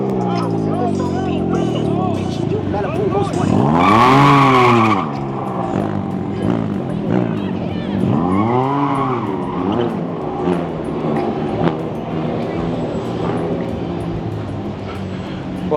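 On a crowded Minnesota city street at night, vehicles sweep past in two loud, close whooshing passes a few seconds apart, one with a sharp rising swell, while someone talks over the traffic noise.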